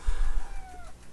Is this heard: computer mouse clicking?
no